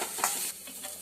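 Onion for samosa filling sizzles and fries in a pan, a steady hissing crackle with faint stirring scrapes, close and fairly quiet, with no voices.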